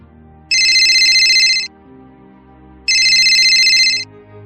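Incoming call ringtone on a phone late at night, two loud, bright electronic trilling rings about a second long each, separated by a pause, over soft background music.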